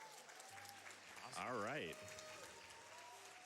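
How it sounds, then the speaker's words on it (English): Crowd at a GDQx speedrun event cheers and claps, swelling into a short loud burst of whooping in the middle, with a voice speaking briefly over the noise. "dude, the crowd is excited"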